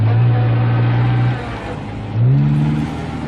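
A car drives along, its loud engine humming steadily, then fading briefly before it surges and revs up again, alone with no voices, as a sound effect in a horror story.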